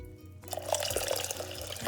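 Boiled spring water poured steadily into a pot for elderberry syrup, a continuous splashing, gurgling stream that starts abruptly after a quiet moment and runs close and fairly loud.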